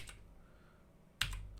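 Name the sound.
typing on the F256 computer keyboard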